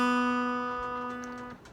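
Open B string on a guitar, plucked once and left to ring clearly on its own, decaying gradually before it is muted near the end.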